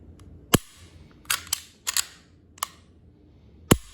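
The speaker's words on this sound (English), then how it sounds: "You can hear that reset." Sharp, close metallic clicks from a Walther P99 AS pistol's trigger resetting, about six crisp snaps at irregular intervals over a quiet background.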